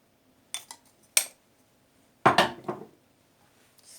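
Flour, sugar and salt are mixed in a bowl, a few scattered clinks and scrapes of utensil against the bowl with quiet gaps in between and no talk.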